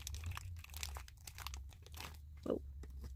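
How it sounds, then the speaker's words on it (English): Plastic packaging of a Maniology nail stamping kit being peeled and torn open up close, a run of crinkling, crackling rustles with one sharper tear near the end, and no voice. "Trying to peel open plastic."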